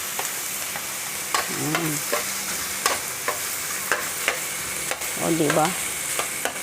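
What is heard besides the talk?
pork frying with garlic and onion in a pan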